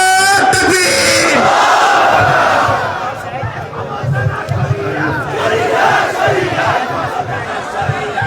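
A large crowd at an outdoor election rally in Mehendiganj answers a Naara-e-Takbeer call with a loud massed shout that fades into a rumbling, murmuring roar of voices.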